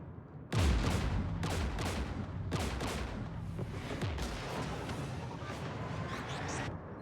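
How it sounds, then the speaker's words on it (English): Heavy gunfire in a Mass Effect battle against Geth forces, a loud continuous barrage of overlapping shots and booming blasts that starts abruptly and keeps going. "We're taking fire."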